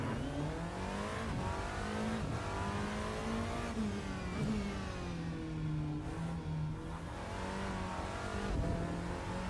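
A Porsche 963 LMDh hypercar runs without traction control in the Rennsport racing game. Its engine note rises and falls steadily as it accelerates and shifts, loud and continuous, with brief tyre squeals.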